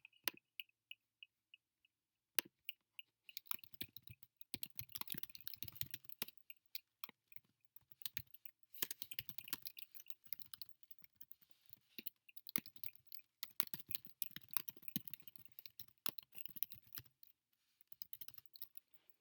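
A name typed on a computer keyboard: a couple of seconds of near silence, then rapid, close key clatter in bursts with brief pauses, plus a few sharper single key strikes.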